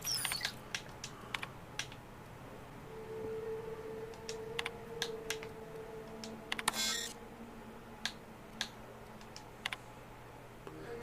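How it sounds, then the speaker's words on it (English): Computer keyboard keys are mashed in scattered, sharp clicks and short bursts over a faint hum, with a brief low tone from a game partway through, close and fairly quiet overall. "let's mash some keys"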